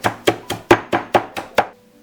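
A knife chops fresh herbs sprinkled with sea salt on a board, eight crisp, evenly spaced strikes about a quarter second apart, close and alone, then quiet.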